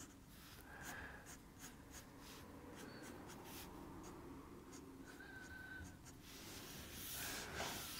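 A pencil sketches tall grass around a drawn tree trunk on paper, giving soft, continuous scratchy strokes in quick repeated flicks, close and quiet.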